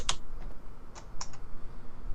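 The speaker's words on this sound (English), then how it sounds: "Fareed hammers away at the keyboard." A computer keyboard is hit in quick, uneven bursts of crisp clicks and taps. The keystrokes sound close and moderately loud over a faint low background hum.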